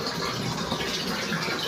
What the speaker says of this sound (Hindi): ये देखिए मेरे पानी लेने का तरीका, ऊपर से पानी गिर रहा है और मग में आके नीचे रुक रहा है।